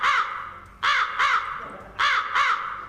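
A crow caws four times in two quick pairs, loud and close, each harsh call clear against a quiet background.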